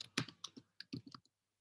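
Keys clatter on a computer keyboard as a command is typed, about a dozen close, crisp clicks in two quick bursts separated by a short pause, then silence.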